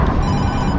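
An incoming call rings inside a car being driven, a steady electronic ringtone held close over a continuous road and engine drone.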